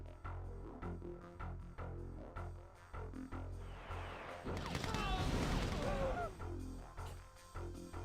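A barrage of rockets launches in Combined Arms, a dense burst of whooshing, hissing streaks and booms swelling in the middle of the clip over ongoing talk.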